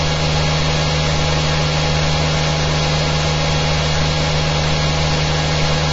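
An engine under a long test run drones loudly and continuously with a strong steady hum and vibration, close up, with no voices.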